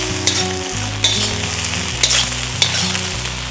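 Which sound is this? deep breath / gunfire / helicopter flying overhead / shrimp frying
shrimp frying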